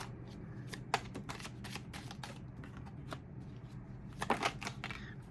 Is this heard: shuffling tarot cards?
yes